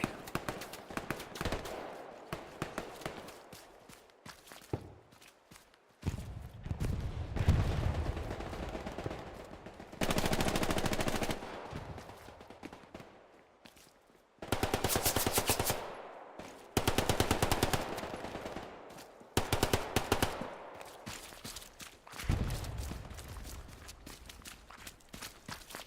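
Heavy gunfire in the console video game Hell Let Loose during a competitive 49-versus-49 battle on Hill 400, with long rattling machine-gun bursts and scattered single shots, some close and loud, others more distant, broken by short quieter gaps.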